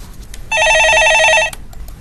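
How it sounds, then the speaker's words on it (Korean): A telephone rings once during a Korean stock-market call-in show, a single loud electronic trill burst lasting about a second, alone between quiet moments. "예, 전화 받아보겠습니다."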